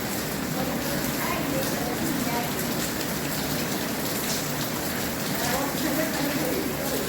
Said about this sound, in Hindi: शांत माहौल के बीच धारी गिर में धुआंधार बरसात से माहौल में काफी